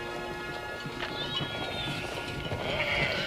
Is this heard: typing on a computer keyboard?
no